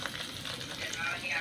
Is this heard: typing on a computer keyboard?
no